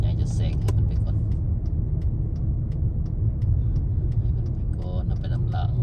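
A large vehicle overtaking on a road gives a steady loud engine rumble and road roar that holds throughout, with faint higher clicks and rattles over it.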